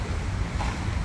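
Outdoor wind buffeting the microphone, a dense steady rumble and rush throughout a short moment with no other sounds.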